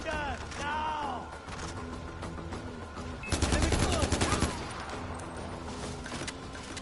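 Burst of rapid gunfire with loud overlapping shots rings out for about a second amid a chaotic game scene, with voices and other noise around it before and after.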